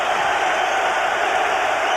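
A boxing arena crowd roars and cheers steadily for heavyweight Frank Bruno as he climbs into the ring in a crimson dressing gown, a dense, continuous wall of loud noise throughout.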